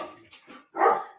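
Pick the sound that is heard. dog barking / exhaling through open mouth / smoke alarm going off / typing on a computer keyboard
dog barking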